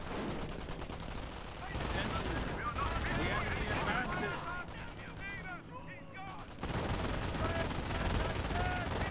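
Machine gun fire from a base MG in a Company of Heroes battle: continuous rattling bursts mixed with other gunfire and explosions, dense and loud throughout with brief lulls.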